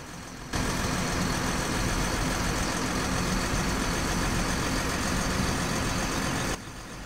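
A tractor engine idles in a farming video game, a steady droning rumble that holds unchanged for several seconds before cutting back, with no voices over it.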